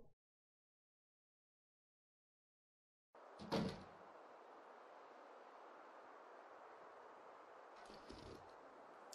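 A side door opening in The Long Dark, a short wooden knock and creak after silence, followed by steady outdoor wind and a second faint thump later on.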